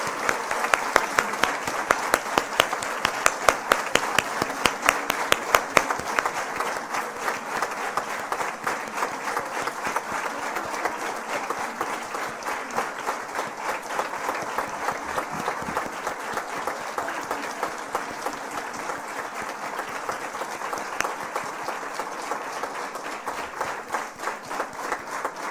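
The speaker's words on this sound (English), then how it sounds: "Let's welcome them with a hearty round of applause." Audience in a symposium hall gives sustained applause to welcome arriving speakers, a dense steady clapping that holds loud throughout with no talk over it.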